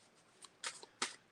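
Tarot cards shuffled in three quick riffling bursts, each a crisp papery flutter close by, separated by brief quiet gaps.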